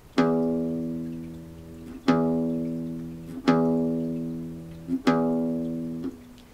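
An open low E string on a guitar in standard tuning is plucked four times about two seconds apart, each note ringing deep and full before the next pluck.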